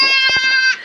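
A goat lets out a loud, quavering bleat close by, a single wavering call held for most of a second with strong harmonic tone.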